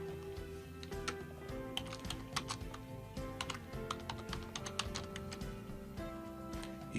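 Rapid, irregular clicks of fingers typing on a computer keyboard, close and fairly quiet, in short bursts with brief pauses over a faint steady hum.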